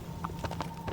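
A horse's hooves clip-clop in Shadow of the Colossus, with several quick, moderately loud hoofbeats in an uneven gallop rhythm over steady game background noise.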